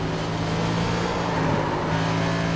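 A stock race car at Homestead pulls another gear and accelerates after nearly spinning, its engine a steady, loud, sustained drone with no pauses.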